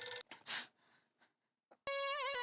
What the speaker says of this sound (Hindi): पूजा का फोन।